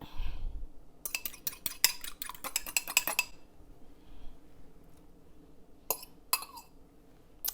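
A fork whisks an egg in a bowl, a quick flurry of bright metallic clinks for a couple of seconds, then a pause and a few more scattered taps against the bowl, close and fairly loud.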